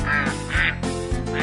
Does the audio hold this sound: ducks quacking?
yes